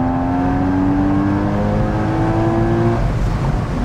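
Porsche Boxster engine revving hard while driving, a loud sustained rising drone with steady harmonic pitch that climbs, then drops away near the end, close and without talk.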